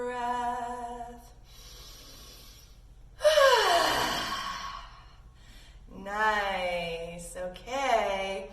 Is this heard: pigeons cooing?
no